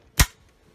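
The trigger of a muzzleloader snaps once as it fires, a single sharp dry click close by, with quiet around it.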